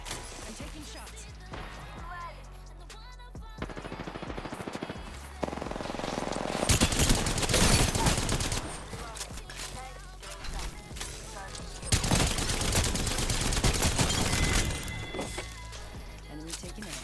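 Video game gunfire in a squad match, with rapid bursts of automatic fire and repeated shots, loud and dense, mixed with game effects while a player talks over it.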